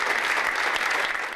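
Crowd at a Mitt Romney campaign rally clapping and cheering approval, a dense, steady wash of applause throughout, fairly loud and unbroken.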